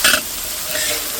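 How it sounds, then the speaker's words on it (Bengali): Cabbage and carrot dropped into hot oil, giving a loud initial burst of sizzling and stirring that settles into a steady, close frying hiss. "তেল গরম হয়ে গেছে, বাঁধাকপি দিয়ে দাও।"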